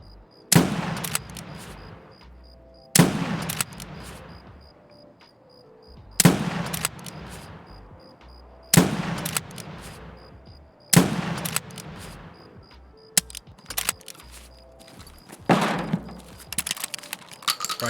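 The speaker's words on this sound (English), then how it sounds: "I purchased one of those revolver shotguns just to try it out" A revolver shotgun fired in a video game, about seven heavy, loud shots spaced a couple of seconds apart, each with a sharp crack and a long decaying tail, with quiet gaps between.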